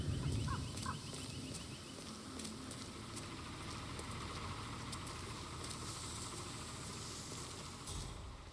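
Turkeys gobble in Hitman 3, a short burst of bird calls at the start and then fading into a low, steady rumbling ambience.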